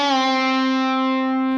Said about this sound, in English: that bend will be on the 6th fret of your G string